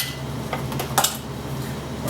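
Dirty dishes set aside in a kitchen while cooking Brussels sprouts with bacon and dates: a few light clinks and clatters of crockery and cutlery, close by, with a sharper clatter near the middle.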